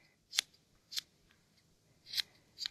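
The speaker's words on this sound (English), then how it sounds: "I like to just cut and slowly rotate the pom-pom" Sharp scissors snip at a yarn pom-pom, four quiet, crisp cuts spaced unevenly in a hushed room.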